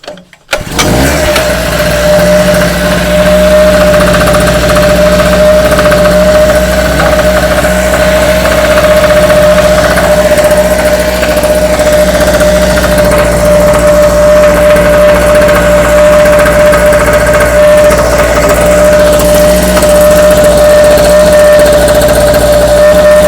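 A gasoline generator runs steadily at close range, its loud, even engine drone holding a constant hum for the whole stretch after a brief start.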